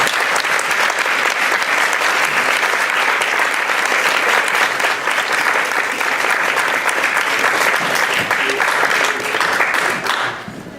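Sustained audience applause welcoming lecturer Ayana V. Jackson, a dense, steady clatter of many hands clapping for about ten seconds before tapering off at the end.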